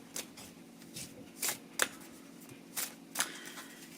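Playing cards handled and shuffled to draw a penalty card in a book-themed card game, with a series of crisp riffling flicks and slaps coming in short bursts, close up and fairly quiet over a steady low background hum, no talking.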